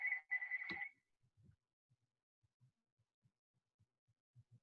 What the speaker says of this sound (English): My phone is just ringing in my house